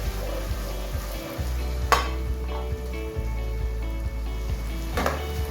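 Ginger and garlic sizzle steadily while browning in a pan while cabbage is being cooked, a continuous close frying hiss with a couple of sharp clinks of a utensil against the pan.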